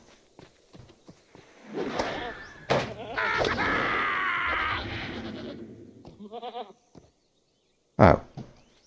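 Goat bleating in the Lord of the Rings Online video game, a drawn-out wavering bleat followed by shorter cries and a loud final call, with scattered footstep-like taps around it.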